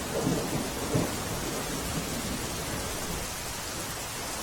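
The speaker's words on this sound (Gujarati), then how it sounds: "તાપીમાં આજે વહેલી સવારથી જ ધોધમાર વરસાદ વરસી રહ્યો છે" Heavy monsoon downpour over rural Songadh in Tapi district, a dense steady roar of rain with low rolling thunder rumbling near the start, continuous and unbroken throughout.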